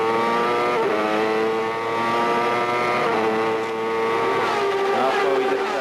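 A CART Champ Car engine screams from an onboard camera around the Belle Isle Park street circuit in Detroit in 1998, loud and continuous, pitch rising through the gears with brief dips on lifts and downshifts.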